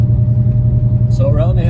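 A 2019 Dodge Charger Hellcat fitted with new Demon Killer springs cruising along, its engine a deep steady rumble heard from inside the cabin, with a voice starting to talk over it near the end.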